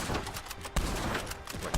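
Rapid gunfire aimed at a tank in the video game Red Dead Online, a quick burst of repeated shots in a fast rhythm, fairly faint and muffled.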